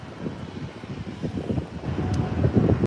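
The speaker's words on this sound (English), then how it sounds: "nice 737-800 lining up here from Delta" Delta Boeing 737-800 jet lining up on the runway at LAX, a steady low engine rumble with wind buffeting, building slightly louder toward the end.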